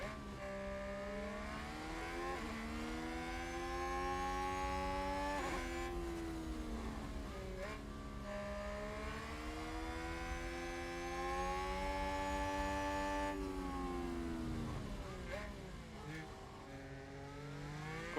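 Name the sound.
Formula 1 car engines racing in F1 Manager 2022 video game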